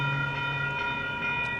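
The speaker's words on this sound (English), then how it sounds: "Unclear if this train's gonna move." A train stands on the tracks in Portland, giving off a steady tonal hum with sustained harmonic whine, close and continuous.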